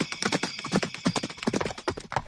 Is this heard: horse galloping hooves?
yes